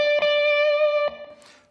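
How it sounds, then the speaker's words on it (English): A distorted electric guitar plays the root note at the 15th fret of the B string twice, two picked attacks each ringing with long sustain, close and with no voice over it. "Then we play the root note on the 15th fret of the B string twice,"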